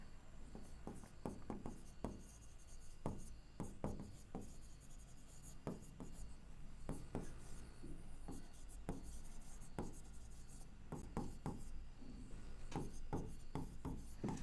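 Quick strokes of writing on a board scratch and tap in irregular bursts, close and fairly faint, continuing steadily through a disease lesson without any talk over them.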